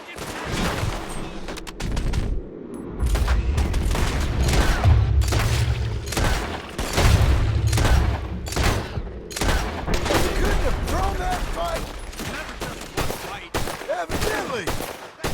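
Rapid gunfire in Red Dead Redemption 2, dense volleys of loud close shots and deeper booms that keep going for about fifteen seconds, with a brief spoken exclamation over them.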